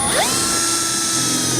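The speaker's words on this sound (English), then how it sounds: "I'll take the provided self-tapping screw that comes in our kit, along with a 1/4-inch nut driver. I'm going to go right into the body here." A power nut driver with a 1/4-inch bit spins a self-tapping screw into the body of a 2011 Honda Odyssey, a loud continuous whirring whine close by that rises sharply in pitch at the start.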